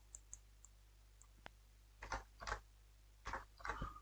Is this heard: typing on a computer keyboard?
yes